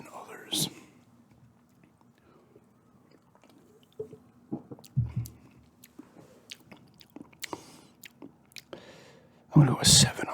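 Someone chews gum close to the mic, giving soft, wet, sporadic smacks and squishes over a quiet background, with brief whispering in places.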